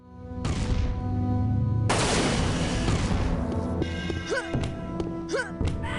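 Weapons firing in the video game Unreal, a rapid barrage of booming shots and thuds over dense game noise, loud and continuous, with sharp synthetic zaps toward the end.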